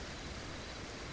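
Gentle rain falls steadily in a forest around a treehouse, a soft, even hiss of drops with no breaks, faint and continuous.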